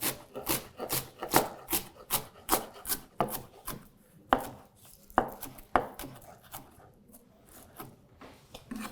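A knife chops and minces parsley on a cutting board in a steady run of close, crisp taps, with short pauses now and then and no talking over it.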